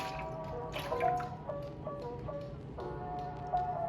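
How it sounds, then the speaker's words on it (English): Melted candle wax dripping onto paper, a few soft, irregular drips and wet squishy taps heard up close against a quiet room with a faint tonal hum. "I just move my scale so I can let it drip on the paper"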